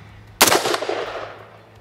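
A single sharp rifle shot rings out at a sight-in session, a loud abrupt crack followed by a decaying echo that trails off over more than a second.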